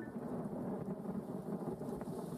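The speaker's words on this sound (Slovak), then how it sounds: "To znamená, že búrka je od nás vzdialená 3 míle." Distant rumble of thunder from a storm about three miles off, a low rolling roar with rain hiss, steady and unbroken for a couple of seconds with no voices.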